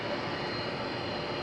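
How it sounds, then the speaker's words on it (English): Air Force One, the presidential jet, arriving on approach in Utah, heard as a steady, loud, continuous engine roar with no break. "waiting for the president to roll up on Air Force One"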